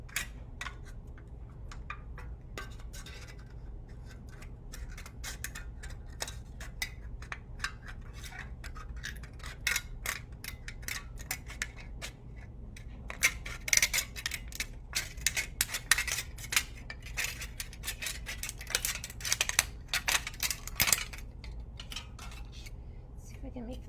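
Scissors snipping through a thin aluminum soda can, with dense quiet clicks and crinkly metallic cuts that grow busier and louder toward the middle, all close up, with occasional soft talk.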